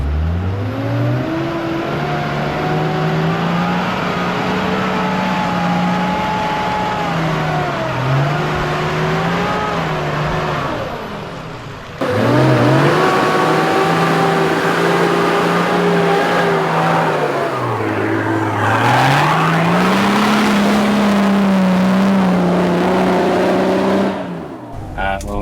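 A 4WD engine revs steadily through a jungle bog hole, the drone rising and falling as the throttle is eased on and off, loud and close, with a sharper surge midway.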